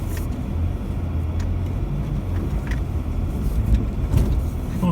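A four-wheel drive vehicle climbs a rough soil track through a pit, its engine a steady low rumble with occasional knocks and rattles from the uneven ground, close and continuous.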